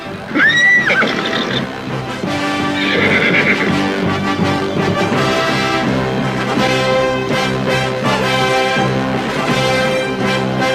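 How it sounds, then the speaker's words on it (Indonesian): Horses neigh and whinny loudly with a rising squeal near the start, set against a dense, continuous dramatic music bed in an Indonesian audio drama scene of riders reining in and their mounts rearing. "Raglatik dan Ratati segera menghentikan tali kekang kudanya, sehingga kuda mereka melonjak tinggi."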